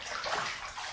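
Bathwater in a tub stirred by a bath bomb soak, a brief continuous wash of sloshing and splashing, close and moderately loud.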